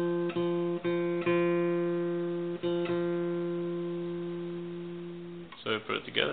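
A single guitar note on the 4th string at the 3rd fret, part of a C major scale, rings out clearly with a few repeated plucks before sustaining and decaying, followed by brief handling noise.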